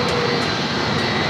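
Boeing 737-800 jet taking off at San Diego airport, a loud, steady engine roar close by that fills the whole moment without a break.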